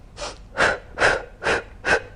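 Five deep, rhythmic breaths during a floor core workout, each a strong breathy rush evenly spaced about every half second, close and alone with no talk.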